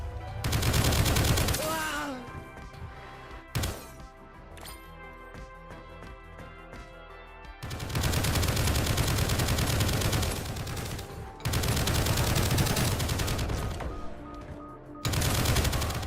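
Rapid bursts of gunfire from the video game Project Onyx, loud, dense volleys coming in several long stretches separated by quieter gaps.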